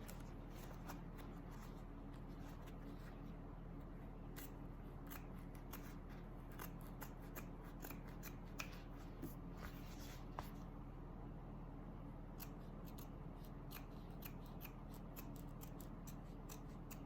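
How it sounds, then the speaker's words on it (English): Scissors snip repeatedly through foam trimmed from the bottom piece of a handbag, a long run of crisp, close cuts in an irregular rhythm, alone without talk. "you can cut some of this foam out to help with the bulk"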